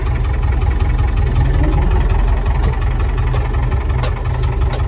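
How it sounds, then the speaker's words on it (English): A David Brown Case IH tractor engine runs steadily close by, a loud continuous low diesel rumble with no break. "we'll see if she starts up and see how this clutch works"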